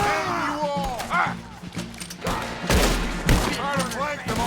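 A Red Dead Redemption 2 gunfight crackles with rapid, overlapping gunshots and heavy thumps, while voices shout over the continuous barrage.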